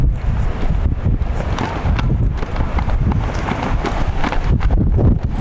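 Wind gusting across an outdoor soccer field during a U19 match, a continuous low buffeting rumble pressing on the microphone throughout, with no clear break or voice over it.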